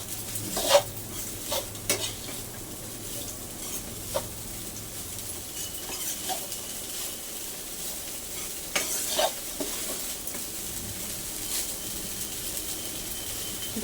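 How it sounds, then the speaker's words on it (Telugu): Leftover cooked rice mixture stirred and heated in a pan, with a steady low sizzle and a few scattered scrapes and clinks of a spoon against the pan, no voices. "మొత్తం మిక్స్ చేసుకొనేసి ఒక 2-3 మినిట్స్ వచ్చేసి హీట్లో ఉంచుకోవాలి"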